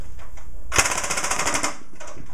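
A Nerf Magstrike blaster fires ten foam darts in a fast, continuous burst, a loud close rattling stream of pneumatic shots with no voices.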